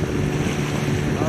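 A small speedboat runs across the sea with a steady, loud motor drone, thick wind buffeting and water rush filling the whole moment without a break.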